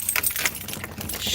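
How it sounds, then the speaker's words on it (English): A bunch of door keys jingles near at hand in short metallic rattles and clinks, brief irregular bursts of shimmering jangle that keep going throughout. "Jeez, I gotta minimize these keys"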